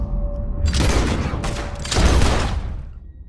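Loud gunfire in Red Dead Redemption 2, a couple of sharp close shots aimed to knock a revolver from a man's hand, each ringing out with a heavy echoing tail and no talk over them.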